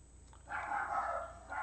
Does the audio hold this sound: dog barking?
yes